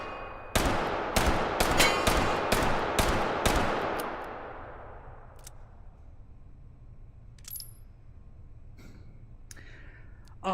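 Smith & Wesson R8 .357 revolver fired in the H3VR video game: seven sharp, loud shots in fast succession with a long reverberant decay, followed by faint clicks and handling noises.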